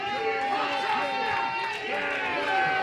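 Arena crowd at a live wrestling show murmuring and jeering steadily as a wrestler is driven neck first into the bottom rope, with a commentator talking over the noise throughout.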